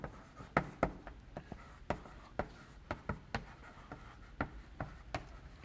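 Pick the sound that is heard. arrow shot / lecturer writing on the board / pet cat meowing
lecturer writing on the board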